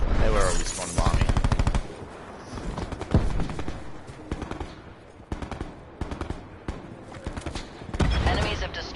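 Rapid automatic gunfire rattles in the 2019 Call of Duty Modern Warfare game, loud and dense, with repeated bursts of close shots and some single cracks across the stretch.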